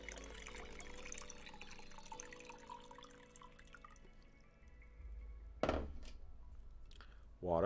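Water poured into a glass indoors, a close gurgling trickle under a low background for several seconds, then a pause and two sharp splashy bursts near the end.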